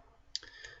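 A single computer mouse click on a Start button, a faint, crisp tick in a quiet room, followed by a soft second click.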